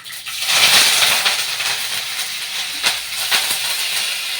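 Curry leaves, chana dal, cumin and mustard seeds drop into hot oil for semiya upma. A loud burst of sizzling rises at once, then settles into a steady hiss broken by small pops and crackles.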